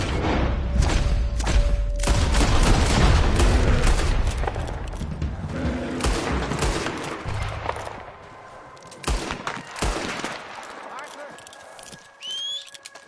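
Rapid gunfire in Red Dead Redemption 2, bursts of loud shots and booming thuds with horse sounds mixed in, dense at first then thinning into scattered blasts, with voices shouting over the action.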